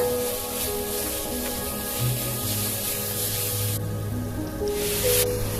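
Prawns tossed and mixed with freshly ground masala for Mangalore-style sukka make a close, continuous wet rubbing and squishing sound, with a steady hiss underneath.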